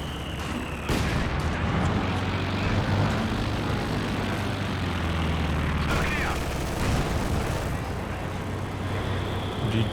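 Mortar fire in a World War II real-time strategy battle, with heavy booming impacts and scattered gunfire over a dense rumbling battlefield din, while a commentator talks over it.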